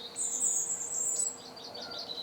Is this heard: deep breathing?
no